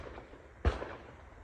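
One sharp shotgun blast at a South African clay shooting competition, a single brief crack that fades quickly over a quiet background, heard somewhat faintly with no voices.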